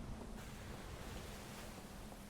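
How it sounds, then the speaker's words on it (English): Water floods in with a steady, loud rushing roar in the video game Outer Wilds: Echoes of the Eye, a continuous broadband wash with no talking. "Water's coming in."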